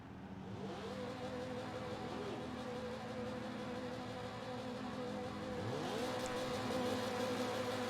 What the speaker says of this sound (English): Motors are revved up